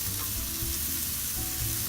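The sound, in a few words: rice frying in butter on a stove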